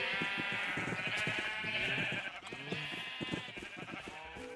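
Blocky sheep in Minecraft bleat over and over in overlapping, wavering cries, loud and close, with no talk on top.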